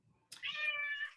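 A single drawn-out cat meow, close and fairly clear, rising after a brief pause and holding steady for nearly a second before trailing off, with no talking over it.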